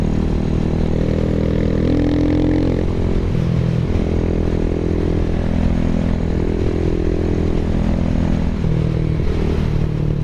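A Buell Blast motorcycle engine droning loud and steady, with its pitch rising and falling as it accelerates and shifts, heavy continuous rumble and wind throughout with no talking.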